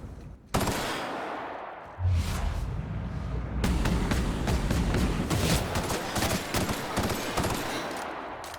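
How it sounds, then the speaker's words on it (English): Rapid automatic gunfire from Phineas's gun in The Outer Worlds video game, loud sustained bursts after a sharp opening shot, with dense crackling fire continuing throughout and a low rumble underneath. "Phineas's gun is coming in handy."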